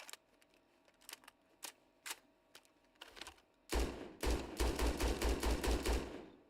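Scoped weapon firing in Starfield: sparse sharp clicks and single shots, then a loud, rapid burst of automatic fire with deep booming thumps, close and dominant.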